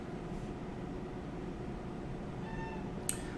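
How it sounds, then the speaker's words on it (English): A cat meows briefly after being accidentally elbowed, a short faint cry rising over a steady background hiss, followed by a sharp little click. "I just elbowed my cat"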